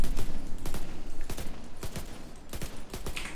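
Automatic gunfire in a video game empties a whole magazine in a series of sharp, loud bursts and single cracks spread irregularly across the stretch, close and punchy.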